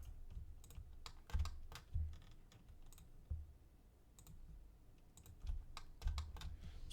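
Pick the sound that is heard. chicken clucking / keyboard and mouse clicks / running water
keyboard and mouse clicks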